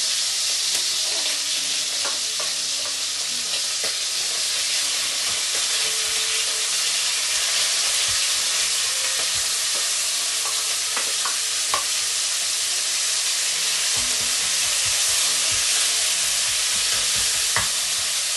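Lasagna ingredients sizzle and fry hard in a hot pan, a loud steady hiss with crackling pops and occasional stirring scrapes throughout.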